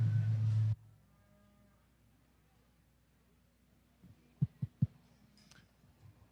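A loud, close low moo opens, then a quiet show barn holds faint hum, a few soft thumps and distant cattle noises from shorthorn breeding heifers at a livestock show.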